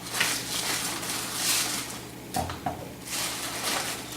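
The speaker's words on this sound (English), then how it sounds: "We're going to put these in the pan and cover them as well." Steaks are set into a pan and covered, with a soft sizzle throughout broken by a brief clatter of a lid or pan in the middle, close by.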